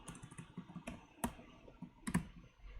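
Keys on a computer keyboard tapped in a quiet room, a few sparse, soft clicks spaced irregularly, with one or two sharper strikes standing out.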